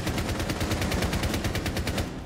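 A player as Frost fires through walls in Rainbow Six Siege: a loud, steady burst of rapid automatic gunfire with evenly spaced shots throughout, heard alone.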